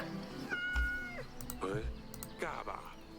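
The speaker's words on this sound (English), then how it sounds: "we're gonna pet the cat." A cat meows repeatedly while being petted in the video game Yes, Your Grace, with three drawn-out meows in a row over soft background sound.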